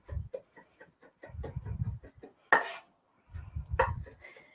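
A knife rapidly chopping parsley into a fine mince on a cutting board, with bursts of quick, close taps in short runs and a couple of brighter knocks as the blade strikes, faint and with no talk.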